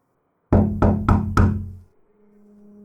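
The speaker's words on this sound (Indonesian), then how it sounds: "Ia langsung membuka pagar dan mengetuk daun pintu." Four loud, evenly spaced knocks on a wooden house door set behind a bamboo fence, close and crisp with short decays, followed by near silence and a faint low hum.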